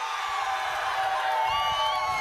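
A large crowd roars and cheers at an AIADMK political rally in Kallakurichi, a sustained, dense wash of voices with high whistles and whoops rising above it, loud and continuous.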